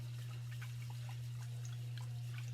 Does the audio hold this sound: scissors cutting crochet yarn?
no